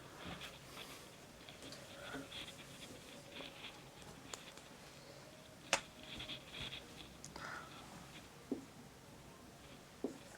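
Pen writing on paper while a Class 10 NCERT maths equation is worked out, a soft scratchy patter of strokes over a low background hum, with a few sharp taps of the pen.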